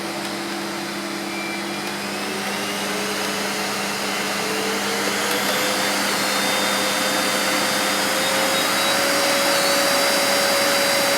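A Karcher TSC 555 cylinder vacuum cleaner runs loud and close, its steady whirring motor climbing gradually in pitch as the power rises from economy setting toward maximum.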